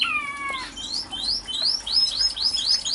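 Society finches, also called Japanese sparrows, chirp and sing in a bamboo-planted aviary with a fountain, giving a busy run of short, bright tweets and rising calls that repeat steadily and sit close and clear over quiet background.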